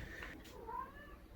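A cat meows softly on a Portuguese farm in summer, one faint drawn-out wavering call with a rising then falling cry, heard alone at a distance.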